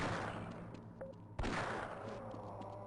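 Gunfire in the video game Half-Life Blue Shift, with a sharp loud shot cutting through a dense, steady wash of game noise and a few fainter hits scattered around it.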